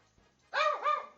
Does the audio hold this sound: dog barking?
yes